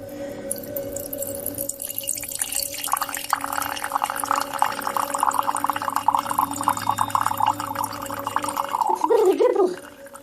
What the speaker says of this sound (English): let me just pour out my drink